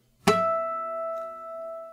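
A single natural harmonic plucked at the 7th fret of a guitar's G string rings out as a clear, bell-like tone after a sharp attack and sustains steadily, with a soft faint tick partway through.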